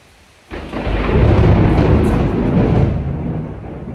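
A thunderstorm with rain at Entebbe, Uganda: after a moment of quiet, a sudden loud, deep roll of thunder breaks in and rumbles on heavily for several seconds, close and powerful.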